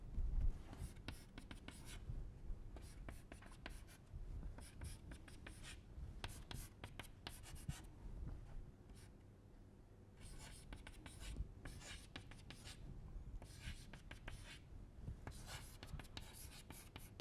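Chalk scratches and taps across a blackboard in a lecture on two-dimensional steady-state heat conduction, in quick repeated strokes with brief pauses, close and clear, with faint murmuring in the room.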